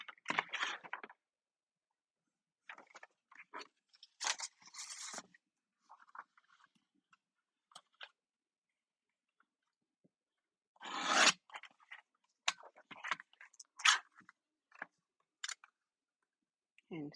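Scissors snip through paper scraps in short, scattered bursts of crisp cuts separated by quiet pauses, close and fairly soft, with a few louder rustles of paper between snips.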